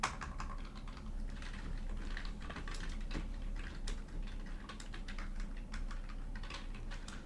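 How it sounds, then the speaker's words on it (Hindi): Text typed into a word processor on a computer keyboard during a live computer class, a steady stream of close, rapid keystrokes with no talking. "जैसे यहाँ पे मैं कुछ टेक्स्ट टाइप कर देता हूँ"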